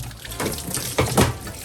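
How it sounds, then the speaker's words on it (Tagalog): Water pours into a washing machine tub for rinsing laundry, a close, splashing gush that swells in short surges over a steady running-water hiss. "Pagkatapos yung babanlawan, punuin natin siya ng water."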